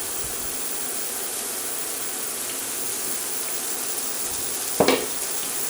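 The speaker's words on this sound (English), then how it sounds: "And now we're going to cook off the onions until they brown" Onions sizzle in olive oil in a pan, a steady broad frying hiss with a brief louder stir or clatter near the end, no talking.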